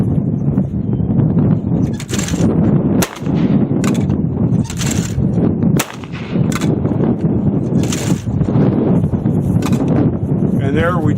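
Breda Xanthos Damasco 12 gauge shotgun firing 1 ounce loads outdoors, several sharp loud blasts at irregular intervals over continuous wind and background noise.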